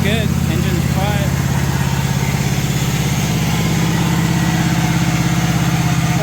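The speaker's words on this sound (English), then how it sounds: "Runs good. Engine's quiet." A John Deere LA135 lawn tractor engine idles steadily nearby, a constant low rumbling drone with an even pulse, running smoothly for the whole stretch.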